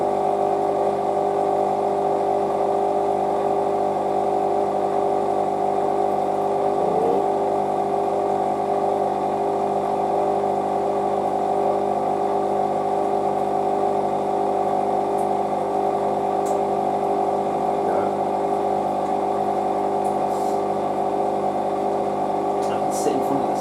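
A new washing machine runs with a steady, even mechanical hum and whir that holds unchanged throughout, faint ticks and rattles above it, with no voices heard.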